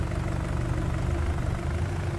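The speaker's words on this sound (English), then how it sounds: "Come on, tractor. You can pull this thing. Come on. Put that four-wheel drive in good use." A tractor engine in Farming Simulator 19 drones steadily and loudly under load, a continuous low throbbing rumble pulling a heavy wagon on four-wheel drive.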